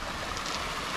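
Water pours steadily over driftwood in a small backyard waterfall, a constant close rushing wash with no talk.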